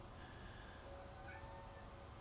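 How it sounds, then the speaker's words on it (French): A cat in heat meows faintly and at a distance, its thin drawn-out call sitting low beneath a steady hum of background noise. "il y a mon chat qui a ses chaleurs"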